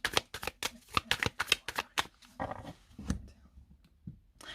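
A tarot card deck being cut and handled gives a quick series of crisp riffling snaps and slaps. A few separate softer card sounds follow.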